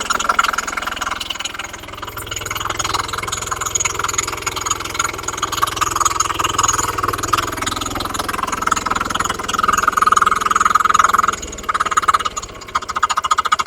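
A power tiller's small engine chugs steadily at close range, a continuous mechanical drone with a persistent high whine that holds throughout the whole stretch.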